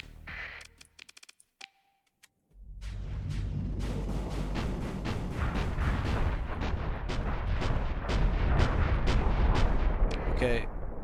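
Dense, continuous barrage of point-defense weapon fire and explosions in the space combat game Starsector, with the Scy Nation mod, rapid loud bursts running for several seconds after a few sparse clicks and a short silence.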